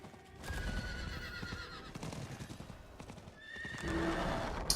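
Horse hooves clip-clop steadily while a horse neighs loudly, with whinnies rising near the start and end, in the Diablo IV video game.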